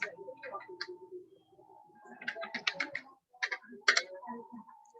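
Fingers type on a computer keyboard in quiet, irregular bursts of clicks separated by short pauses, fairly soft and close.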